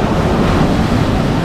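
Sea waves break on the shore of northern Morocco in a loud, continuous wash of surf with heavy wind buffeting the microphone, unbroken by any voice.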